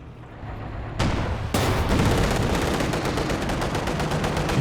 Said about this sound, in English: The sniper's getting a few shots in.